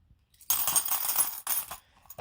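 Silver coins clatter and jingle as a handful is scooped and poured into a container, a dense metallic cascade lasting about a second, then a second shorter pour, with faint clinks at the end.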